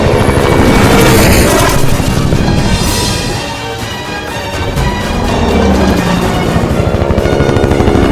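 Gunfire and loud action din from a Hollywood horror movie dubbed into Hindi, a dense, continuous wash of shots and rumbling noise at steady volume for the whole stretch, with no voices.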